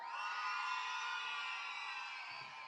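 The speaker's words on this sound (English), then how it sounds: "Everybody who like Mr. McPherson scream." A crowd of children screams and cheers in one sustained, loud burst for Mr. McPherson at an outdoor Africa Day event, fading slightly at the end.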